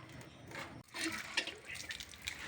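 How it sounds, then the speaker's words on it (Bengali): Freshly cut fish rinsed under running water, a steady splashing gush with irregular sloshes as the pieces are stirred by hand, fairly quiet and close, with no talking. "এখন লেড়ে চেড়ে ভালো করে ধুয়ে নিব।"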